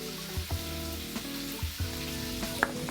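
Chicken frying in a pot gives a steady sizzle, with low knocks and a scraping stir now and then, close by and with no talking.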